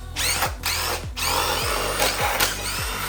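Power drill or impact driver running in short repeated bursts with pitch sweeps, spinning out a couple of 10mm bolts on a tappet cover of a first-generation Cummins diesel engine, close and loud with no talking.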